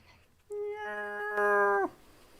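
A pet house cat lets out a single drawn-out, steady meow lasting just over a second, close and fairly loud against a quiet room, ending with a brief downward dip.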